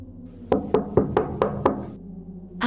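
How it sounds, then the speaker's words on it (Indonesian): Six sharp knocks strike a wall or door in an old house, evenly spaced and close, each one short and solid with a dull resonant thud. "Ketukan itu tidak berhenti seperti biasanya."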